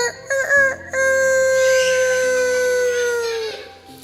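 A storyteller's voice imitates a rooster crowing: a few short clipped notes, then one long, loud, sustained cock-a-doodle-doo call that slowly falls in pitch and fades at the end.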